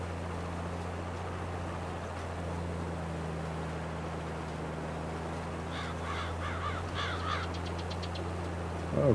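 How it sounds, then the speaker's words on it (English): Crows caw in a rapid burst of harsh repeated calls near the end, rising over a steady low engine drone of farm machinery in the Farming Simulator 22 video game, with no talking. "Oh, run over a bunch of birds."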